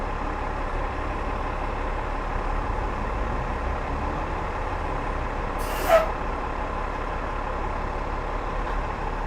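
A city bus on the 19 Bay route in Toronto idles close by with a steady low engine rumble, and a single sharp hiss of its air brake bursts out just past the middle.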